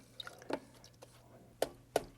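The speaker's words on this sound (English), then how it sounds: "I just like to wash this brush." A paint brush being washed in thinner, heard as a few soft wet squishes and drips, faint and sparse with short gaps between them.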